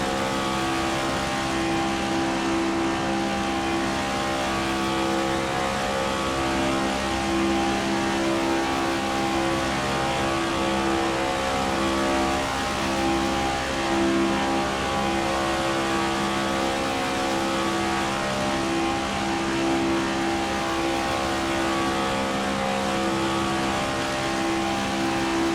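Race car engines roar steadily in the NASCAR 25 video game, a loud, continuous droning whir of several cars running laps with no breaks, no speech over it.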